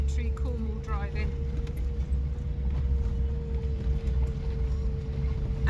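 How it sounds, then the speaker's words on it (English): A campervan drives down a narrow, overgrown back-country lane in Cornwall, its steady low engine and road rumble droning close throughout, with a faint voice briefly heard early on. "This is proper backcountry Cornwall driving."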